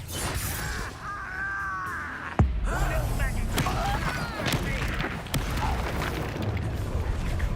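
Confringo explosive spell cast in the Hogwarts Legacy video game: a sharp booming blast near the middle, set among layered spell effects, crackles and shouted combat voices throughout.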